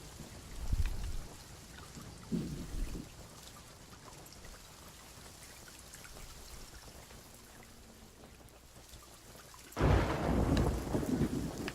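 A thunderstorm in the pirate sailing game Sea of Thieves: steady rain hisses throughout, broken by low rumbles of thunder near the start and a loud, close thunderclap toward the end.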